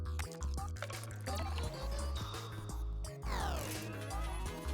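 In a video game, a water ring extinguishes fires with a dense burst of dripping, splashing liquid effects layered over loud game music and sound effects, continuous and busy throughout.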